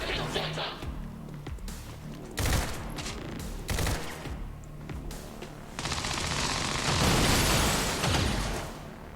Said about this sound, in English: Someone shooting at us!